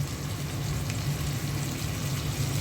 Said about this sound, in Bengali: মশলাগুলো একটু তেলে ভেজে নিচ্ছি।